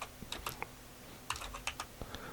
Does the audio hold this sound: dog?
no